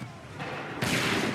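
Musket volley in Assassin's Creed III at the Battle of Lexington and Concord, a sudden loud crackling burst of many shots in quick succession, over a background murmur of battle.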